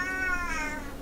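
A Siamese cat gives a single drawn-out meow, close and clear, rising then falling in pitch over about a second with nothing else heard.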